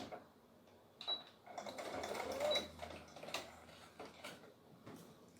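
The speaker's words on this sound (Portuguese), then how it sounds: "E vou passar uma costurinha aqui" A sewing machine runs a short burst of stitches along a seam of a homemade fabric face mask without elastic, with a brief back-tack, the whirring steady for about two seconds amid light handling noise.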